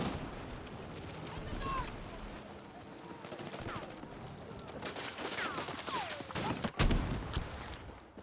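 Automatic weapon fire and explosive blasts in Battlefield 6 as a player shoots at a tank, rapid bursts and booms stacking up loud and close, with voices talking underneath.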